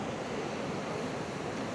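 Water rushes steadily over a waterfall at a high-flow scenic spot a short drive from Calgary, a continuous broadband roar with no breaks, close and loud, with nothing else standing out above it.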